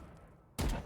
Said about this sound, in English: Early grenade.